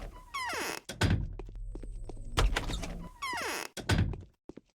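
A door opening in the game Pathologic, with repeated heavy thunks and creaking, squeaking swings in a loud, close sequence of several distinct door movements.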